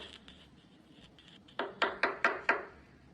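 Five sharp knocks on a door in quick succession, fairly close and loud, in a cartoon scene, with no talking over them.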